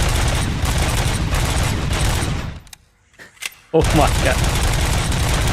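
Heavy gunfire in Robocop: Rogue City, loud rapid bursts that stop for about a second of near silence before resuming hard, with a man exclaiming in the pause.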